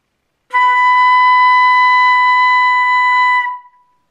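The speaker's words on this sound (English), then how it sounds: "It should sound like this." A B note in the second octave on the flute, blown with fast air, sounds as a single steady, clear tone held for about three seconds, loud and close, then fading away.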